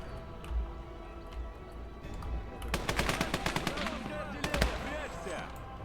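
Gunfire from the Motherland battle video game crackles in rapid bursts of distant-sounding shots, with automatic-weapon rattles clustered in the second half over a low rumbling backdrop.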